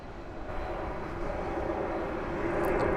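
An Airbus A300 at DFW Airport at night gives a steady jet engine roar that slowly grows louder, heard at a distance with no talking.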